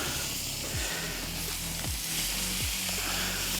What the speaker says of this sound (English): Now the lamb's on the griddle, we're going to leave that for about 4 to 5 minutes each side until the lamb is nicely browned.